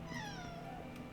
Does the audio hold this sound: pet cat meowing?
yes